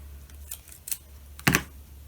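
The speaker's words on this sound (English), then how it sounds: "I'm going to cut a piece of this tape" A strip of tape is torn or cut once, close and sharp, a short ripping burst after a few lighter handling clicks, set over a steady low hum with no talking.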